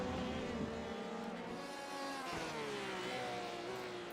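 Race cars circle Sebring in the iRacing simulator, engines droning with rising and falling whines as cars jostle for position and slipstream a Porsche, continuous and loud.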